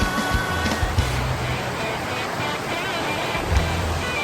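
A waterfall reached by kayak or canoe, a loud, steady broadband rush of falling water filling the scene, with light wind buffeting on the microphone and no clear talk.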